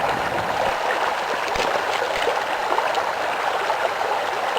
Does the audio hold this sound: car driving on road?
no